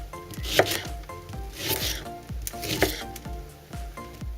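A knife chops food into fairly big slices on a cutting board in a home kitchen, with sharp, fairly regular thuds about every half second, moderately close and with no talking.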